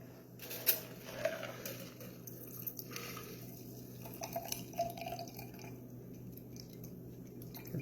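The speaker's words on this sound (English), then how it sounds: "we're going to strain into our glass here" A cocktail strained into a glass gives a faint, thin trickle of liquid with scattered small drips and light glassy ticks, quiet and close, with no talking.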